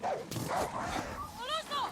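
A dog in the video game Far Cry 6 yelps and whimpers in a few short, rising cries over continuous game sound and a voice speaking throughout.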